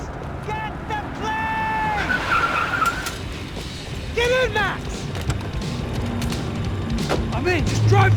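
A car drives hard and skids in the video game Max Payne 3, with repeated tire squeals and screeches over a loud engine rumble, amid gunfire-like bangs and shouted talk.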